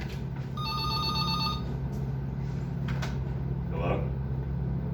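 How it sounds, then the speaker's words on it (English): A telephone rings with an incoming call, a short burst of trilling bell rings over a steady low hum and background noise, moderately loud and close by. "And I got another phone call."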